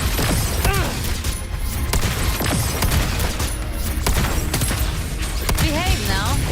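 Gunfire and combat effects in the video game Wuthering Waves, with dense bursts of shots and booms crowding a loud, busy battle mix over a constant bed of game noise.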